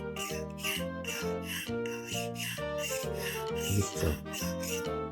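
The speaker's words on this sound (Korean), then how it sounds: "대패를 잘못 갈고 있을 때는" A hand plane blade sharpened the wrong way on a stone gives off a steady back-and-forth rubbing rasp with a squealing, tonal edge. The strokes repeat about twice a second, close and loud, and a voice speaks briefly.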